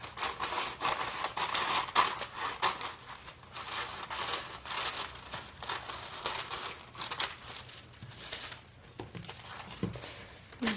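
Scissors snipping through lavender purple tissue paper, a steady run of crisp, close cuts and crinkles, fairly quiet and with no talking.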